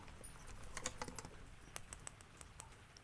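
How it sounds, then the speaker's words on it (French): A stiff pencil case worked open in a quiet room, giving a soft, irregular run of small clicks and scratchy taps, close and gentle, with no talk. "mon plumier, qui a du mal à s'ouvrir"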